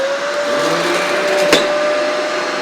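A Riccar vacuum cleaner runs under a bed with a loud, steady motor whine and a sustained tone, broken by one brief knock partway through.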